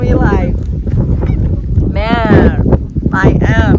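Ducks or geese honk loudly and repeatedly nearby, calls overlapping with someone talking over wind-buffeted microphone noise.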